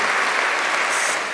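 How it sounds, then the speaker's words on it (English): Sustained applause from the audience at a London singing contest finale, thick continuous clapping at a loud, even level with no voices over it. "Another round of applause"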